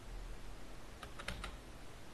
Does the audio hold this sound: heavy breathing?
no